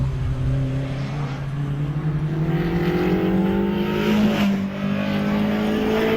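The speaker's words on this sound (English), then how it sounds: "we've got Jonathan Langmead in the Lotus Elise 135R heading up towards Farmhouse Bend" A Lotus Elise 135R race car climbs the Harewood hillclimb course toward Farmhouse Bend, its engine note rising steadily through the gears with a loud, continuous, close-up drone and no voices.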